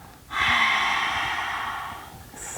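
A long, steady exhale during a guided yoga-style breathing exercise, a broad airy rush that starts abruptly and slowly tapers over about two seconds, close and clear with no talk.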